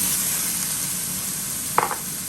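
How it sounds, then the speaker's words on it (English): Pork dropped into a hot pan gives a steady broadband sizzle throughout, with a brief clatter of the pan or utensil near the end; fairly close, no talking. "once the pork hits that hot pan"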